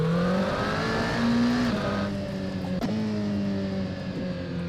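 A third-party car engine in the Assetto Corsa racing game, loud and near, revving with steady rising tones that drop at gear shifts, a brief clunk midway.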